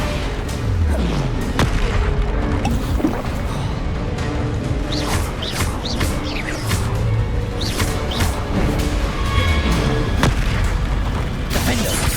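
Bombarda blasting spell explosions from Hogwarts Legacy on PS5, heavy booming blasts recurring through dense game combat noise with crashes and clatter, loud and close, no talk.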